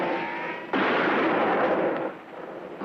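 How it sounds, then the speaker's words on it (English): Gunfire in an old western shootout: a sharp blast followed by a long rumbling burst of shots and echo, loud and nearby, then tailing off, with no talking. "Why are they shooting?"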